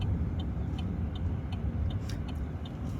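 A right turn signal ticks steadily inside a car slowing toward a blind junction on a Milton Keynes driving test route, with crisp even clicks about every 0.4 seconds over a constant low engine and road hum.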